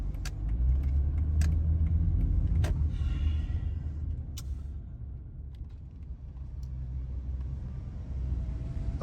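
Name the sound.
cars driving into a parking lot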